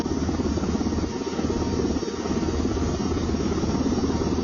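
Drones buzzing in flight, a loud steady rotor drone with a whirring helicopter-like hum that barely dips, close and continuous.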